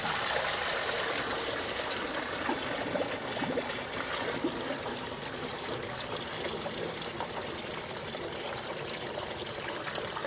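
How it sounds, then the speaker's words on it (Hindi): Water poured steadily into a container, a continuous close rushing, splashing stream holding even for about ten seconds with no voices. "अब हम पानी डालेंगे।"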